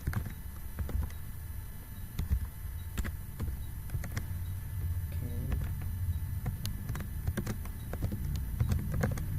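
Irregular keystrokes clack on a computer keyboard over a low, steady room hum, with scattered taps spread across several seconds, fairly close.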